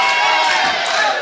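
Crowd at the opening match of an independent wrestling show, a dense, loud sustained roar of cheering and shouting voices that fills the whole brief moment.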